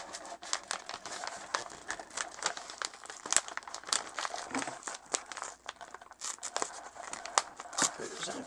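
Witch Casket box packaging being broken open by hand: a dense run of close crinkling, snapping and tearing of cardboard and wrapping, steady throughout, with a voice talking over it at times.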